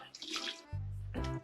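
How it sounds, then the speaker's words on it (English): Licorice mead splashes out in short gushing bursts as it is poured away, first a hissing trickle, then a heavier, close-up glugging stream. "That's one to pour out there"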